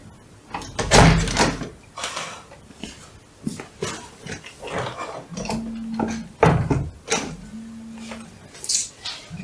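A door being shut indoors, with several loud wooden knocks and thuds in an irregular run, some with a short ringing tone, close and prominent.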